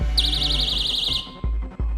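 A personal safety alarm shrieks with a loud warbling electronic tone for about a second, then cuts off, leaving a low hum and a couple of short clicks.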